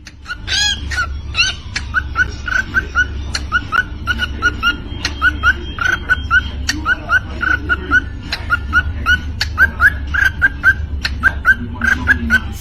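A bird sings in a rhythmic, beatbox-like pattern: repeated short chirps and clicks with sharp percussive pops, going on steadily and fairly close over a low continuous rumble of background noise.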